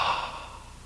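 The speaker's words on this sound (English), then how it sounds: "Draw a deep breath in through the nose, and then open your mouth, not too much" A single deep exhale breathed out through a slightly open mouth during a yoga session outdoors, soft and airy, fading away over under a second.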